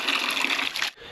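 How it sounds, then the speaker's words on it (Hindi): Lukewarm spring water pouring from a mountain spout, heard as a loud, close, steady splashing gush that cuts off abruptly near the end, with no talking. "ये देखो, बाकी धारे पर आ रहा है गुनगुना पानी"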